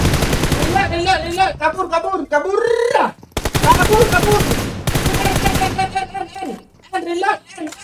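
Rapid automatic gunfire rattles in bursts through a shooting video game while a player talks excitedly over the shots, close and loud, with brief gaps between volleys.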